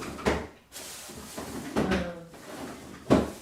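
A kitchen drawer opens and shuts in a couple of loud, close knocking slides, with a third bang near the end and quieter clatter of kitchen items in between.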